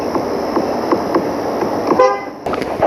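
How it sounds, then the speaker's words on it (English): A 2016 Volkswagen Golf R TSI blares a single loud horn blast over a busy, close background, then cuts off sharply. "2016 Volkswagen Golf R horn. Golf, longer one, TSI horn."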